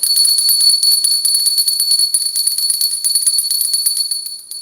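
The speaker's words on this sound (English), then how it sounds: "I gotta ring the bell for that pastor." A bell rung in rapid, continuous jingling strokes, bright and ringing, loud and close for several seconds and fading slightly at the end, with no talk over it.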